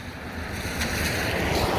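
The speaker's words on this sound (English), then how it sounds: "I'm standing out here and getting soaked by the rain" Heavy rain pours outdoors beside a long, narrow pond in North Carolina, a dense, steady hiss that swells slightly, with wind buffeting the microphone and no voices.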